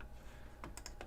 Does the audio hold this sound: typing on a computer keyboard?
yes